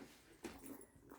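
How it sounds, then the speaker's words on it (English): A dog in the background lets out a few brief, faint whimpers and yips indoors, with no speech. "Don't mind my dog in the back."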